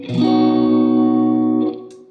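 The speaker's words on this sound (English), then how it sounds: "Spring reverb setting." Through a reverb pedal set to spring reverb, an electric guitar sounds one loud sustained chord that holds for over a second, then decays into a brief reverberant tail with faint fret noise.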